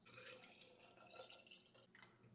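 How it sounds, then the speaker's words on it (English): Pickling lime solution poured over eggs in a container, a faint, soft trickle of liquid with a small splash at the start and the flow thinning out toward the end. "So now we're going to go ahead and pour in our pickling lime solution"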